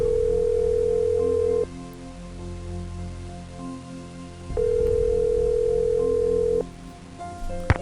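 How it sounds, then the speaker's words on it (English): A landline telephone in a Nancy Drew mystery video game is dialed by hand: a steady dial tone cuts off, short clicks and beeps follow, and then a second long tone plays. The sound is close and clear, with no voices. "we're going to have to actually manually dial the numbers"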